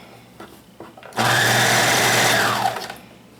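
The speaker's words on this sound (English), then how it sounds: "I'm sewing on the inside of the blouse around that seam I just made, sewing the sleeve in" A serger running along the inside seam of a blouse where the sleeve has been set in, starting abruptly after a few soft clicks and holding a loud, steady whirring drone for about a second and a half before winding down.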